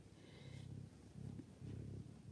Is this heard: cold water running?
no